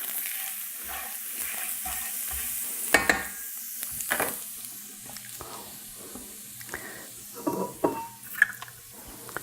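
A utensil scrapes and stirs food in a hot pan, with a steady sizzle underneath and occasional sharp scraping strokes and clinks, and no voices.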